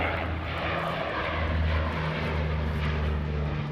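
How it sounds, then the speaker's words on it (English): A propeller-driven aircraft flies overhead during a wildfire, its engine a loud, steady droning roar that fills the scene without letup. "Now you're dealing with aircraft too that are flying overhead"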